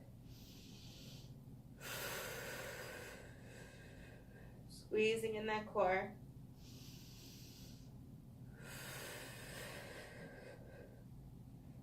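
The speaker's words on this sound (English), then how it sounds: "Breathing through." Deep, forceful breaths come in rhythmic bursts during a power yoga flow, several long exhales repeating at intervals, with an instructor's voice cueing briefly in the middle.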